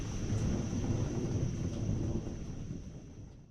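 Thunder from a distant lightning bolt rolls on as a deep, sustained rumble, loud at first and slowly easing off, with a faint steady high tone in the background.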